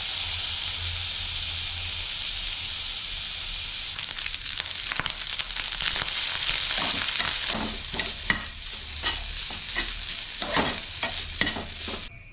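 Lemon rice with grated coconut and lemon juice being mixed in a pan: a steady sizzle first, then a run of scraping, clinking spoon strokes against the pan, close and without speech.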